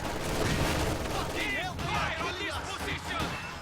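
Anti-tank gun fire from a ZiS gun hitting a 251 half-track in a WWII strategy video game, dense overlapping gunshots and booms under steady loud battle noise, with a voice talking over it.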